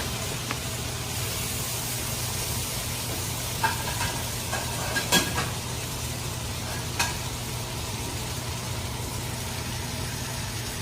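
Steak sizzling while it cooks, a loud, steady broadband hiss of fat and juices, punctuated by a few sharp clinks of utensils against the pan, close up.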